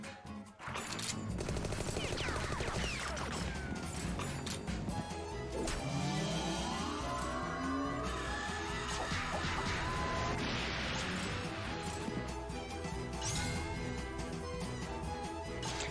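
A big gun fires in the On the Rain-Slick Precipice of Darkness video game, with rapid bursts of shots and crashing impacts going on nearly nonstop for the whole stretch at a fairly loud level.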